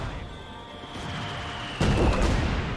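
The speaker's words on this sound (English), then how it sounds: "Oh, that's Sis barrage though." An artillery barrage in the strategy game Company of Heroes during a tournament match: a steady rumbling din, then a sudden loud, dense crash of impacts near the end, no talking.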